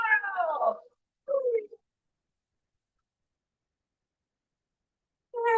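Cats meowing: a drawn-out, wavering meow and a shorter one close together, then a long silence before another meow starts at the end.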